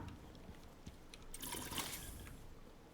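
Soft trickling and gulping of a character drinking water in a survival video game, a quiet liquid swish rising briefly in the middle over a faint background.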